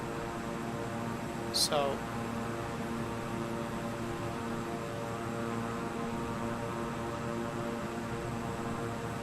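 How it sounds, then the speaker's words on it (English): A propeller plane's engine in Microsoft Flight Simulator 2020, flying over Oregon, holds a steady droning hum with a brief rise early on, loud and continuous, while a voice speaks a single word over it. "So I've just up the RPMs just a little bit on the plane"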